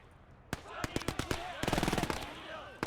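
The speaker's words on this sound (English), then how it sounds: "there's, like, Germans with machine guns in the windows" Machine gun fire in a WWII real-time strategy game, sharp separate shots first and then a rapid rattling burst, with ricochet-like whistles over battle ambience.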